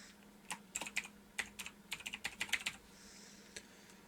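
Keys clatter on a computer keyboard as a school name is typed, a quick irregular run of close, soft clicks that trails off into a few final taps.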